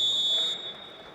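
Referee's whistle stopping a freestyle wrestling bout for the break: a single sharp, steady shrill tone for about half a second over faint arena murmur, then dropping away.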